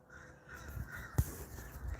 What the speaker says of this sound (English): Oh my God, there's crows all over the place.